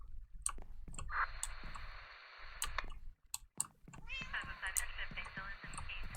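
Cats in the video game Minecraft meowing repeatedly, drawn-out and fairly loud, overlapping one another, with sharp clicking throughout and someone talking over them.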